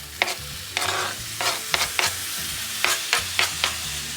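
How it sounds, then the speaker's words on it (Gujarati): Tomatoes stirred into frying onions in a pan for sambar, a steady sizzle under repeated sharp scraping strokes of a spoon, close and loud. "હવે ઓનિયન થઈ ગઈ છે પ્રોપર, તો હવે અને એમાં ટોમેટો એડ કરીશું આપણે."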